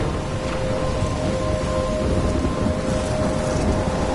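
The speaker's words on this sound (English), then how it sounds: "I'm trapped in a storm?" Steady heavy rain and low rumbling thunder from a storm in the video game Life Is Strange, a dense, continuous wash at fairly high level with no voices.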